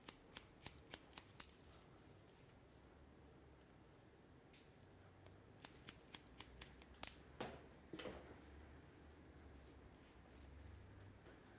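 Scissors snip through hair during a short bob haircut, a series of crisp, quiet cuts in quick runs with pauses between, close by in a calm room.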